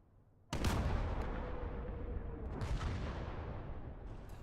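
Gunfire in the World War II game Gates of Hell: after brief quiet a sudden loud blast sets off a rolling barrage of shots and booms, a second sharp report following midway, heavy and sustained.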